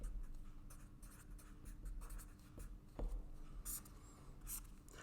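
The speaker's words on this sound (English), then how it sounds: "I'm going to just draw my little line down here" A marker drawing a line on a classroom board, a quiet continuous scratchy stroke with a few brief squeaks, close and faint over room hiss.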